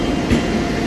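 A train stands at a railway station platform, heard as a loud, steady rumble for under a second with no speech.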